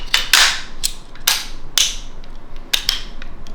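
Sharp metallic clicks and clacks as an AR-15 upper receiver is fitted and locked into the lower receiver, about seven crisp, close snaps spaced irregularly with quiet handling noise between them.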